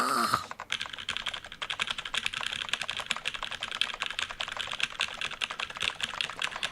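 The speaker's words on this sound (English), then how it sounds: "she was typing at an incredible speed. The click-clack of the keys rang together like machine gun fire" Rapid, continuous clattering of a computer keyboard being typed on at high speed in the Zero Escape video game, dense overlapping key clicks running steadily throughout without any voice.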